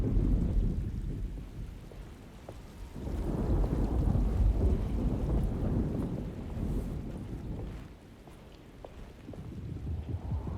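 A thunderstorm in the Alone in the Dark video game brings deep rolling thunder over steady rain and gusting wind. The sound is loud and swells and fades, with no talking.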